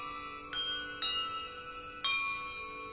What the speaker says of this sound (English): Perhaps the map contains clues about the order I'm supposed to ring the bells in.